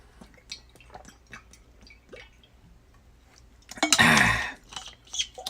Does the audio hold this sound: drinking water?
yes